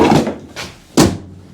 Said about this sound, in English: Just shut this door.